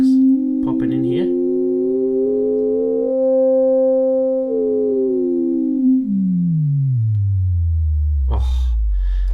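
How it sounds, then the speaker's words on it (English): A Behringer MS-101 synthesizer sounds a loud, resonant sustained tone whose harmonics swell and pop. The pitch bends and then dives into deep bass, with short breathy bursts near the start and the end. "Can you hear the harmonics popping in here?"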